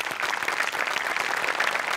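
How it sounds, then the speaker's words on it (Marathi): Audience applause, a dense steady patter of many hands clapping at once, sustained and fairly loud throughout. "टाळ्या वाजवल्या पाहिजेत"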